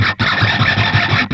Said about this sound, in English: It's one of those squeaky dog toys, but then I'm also squeaking against the guitar as well.